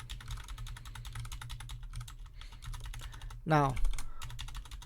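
A command is typed on a computer keyboard for a server install, with rapid, steady key clicks running throughout at close range and a brief spoken word partway through.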